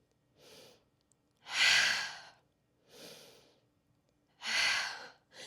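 Deep, audible breathing during a beginner yoga session, alternating soft inhales with two louder, breathy exhales, close to the microphone and otherwise quiet between breaths.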